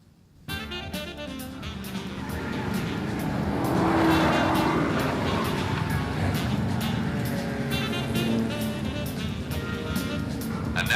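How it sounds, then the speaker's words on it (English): Race cars roar into the pits, with car 3 among them. Loud, continuous engine noise swells and holds throughout, with faint tire squeal and an announcer's voice over the din. "And now it's Bill Holland coming in on pits in car 3."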